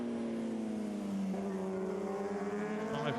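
Superbike road racing motorcycles at the 2021 Cookstown 100 roar past, their high-revving engines loud and close, with the pitch dropping as they go by.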